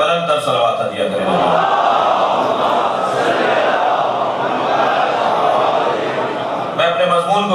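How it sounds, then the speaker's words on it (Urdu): A large gathering of mourners at a majlis for Imam Hussain loudly chants salawat in unison, a dense, roaring wall of massed voices that swells and holds for several seconds, with a single voice speaking briefly before and after. "بلند تر صلوات دیا کریں۔"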